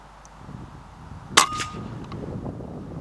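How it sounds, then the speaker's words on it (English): A single sharp air rifle shot with a metallic ring as the pellet strikes a rabbit outdoors, one brief crack standing out over low background noise. "dropped him cleanly with the second shot"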